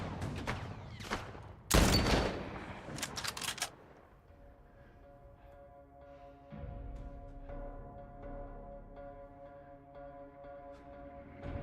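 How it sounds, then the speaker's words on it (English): Gunfire in The Last of Us video game: a dense burst of rapid shots early on, then scattered, quieter pops over a steady in-game ambient hum. "Okay, they're not even shooting at anyone."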